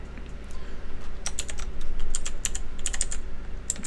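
Steady typing on a computer keyboard, a busy patter of sharp key clicks with a few louder strikes, set over a constant low background hum and no talk.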